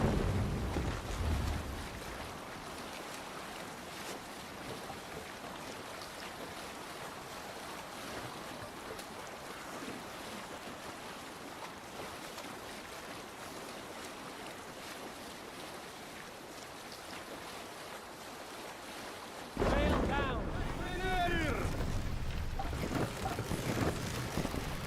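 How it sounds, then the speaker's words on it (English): Wind rushing steadily over open sea around a sailing ship in Assassin's Creed Valhalla, a broad continuous roar with waves and creaking hull, swelling louder and brighter near the end as the sail catches the gusts; no voices. "This wind would fill the sail."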